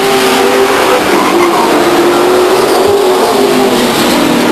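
Race cars pulling away at the start of a race at Stockton 99 Speedway, a loud, dense roar of several engines revving together, with a steady accelerating drone throughout.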